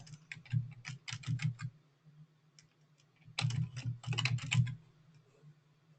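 Fingers typing on a computer keyboard in two bursts of rapid, close key clicks with a steady low hum underneath and a short lull between.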